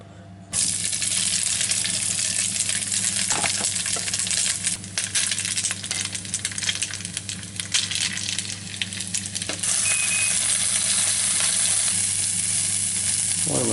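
A fish fries in a little fish oil in a pan, a loud, steady sizzle that starts abruptly and carries on without pause, with a few faint clinks and scrapes over it.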